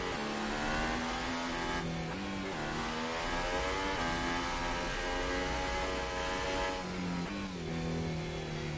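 Race car engines in the F1 2018 game at Austria, running slowly behind the safety car: a steady, loud mid-pitched drone with harmonic lines that dip and rise as the cars lift and pick up speed again, with no voices over it.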